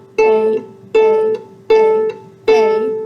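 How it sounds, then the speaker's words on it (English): An A string on a string instrument plucked four times in a steady rhythm, each note ringing clearly at the same pitch before being damped, close and fairly loud. "Those A's indicate every time you're going to pluck the A string"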